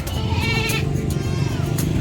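Sheep bleating among livestock at the San Carlos livestock market, several wavering cries over a constant noisy crowd and someone talking nearby.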